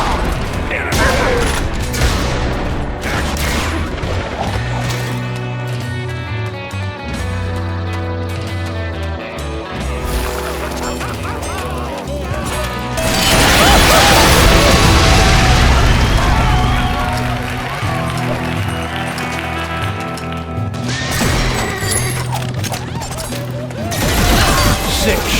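Gunshots in The Gunstringer on Xbox 360, a loud cluster of booming shots in the middle over a steady music-like game backdrop, with quieter bursts near the end.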